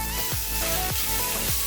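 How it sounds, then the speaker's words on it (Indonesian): Chopped chicken coated in cornstarch, seasoned with pepper and salt, fries in a hot pan, giving a steady, close sizzle with a few brief dips and swells. "Ini kita goreng."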